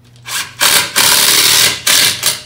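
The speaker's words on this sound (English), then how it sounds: "that sound that you were hearing is a ratcheting sound, because what the impact driver is doing is not only is it turning, but it's kind of hammering the screw in" A cordless impact driver drives a screw into wood, its loud rapid ratcheting hammer rattling in several close bursts separated by short pauses.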